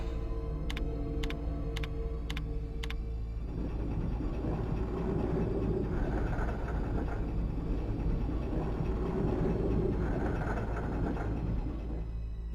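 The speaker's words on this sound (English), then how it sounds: "You got to call the damn tram." Tram arriving in the PlayStation game Resident Evil 2, where a few sharp ticking beeps give way to a swelling mechanical rumble and rattling, growing louder as it pulls in.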